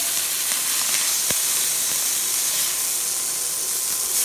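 Steak sears in a hot pan with a steady, close sizzle and hiss that holds even throughout, broken only by a sharp tick or two early on.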